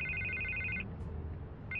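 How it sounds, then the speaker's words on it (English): A phone rings steadily in Batman: A Telltale Series, a repeated electronic trill that stops for almost a second and then starts again, loud over a low background hum. "I can't get the phone to stop ringing"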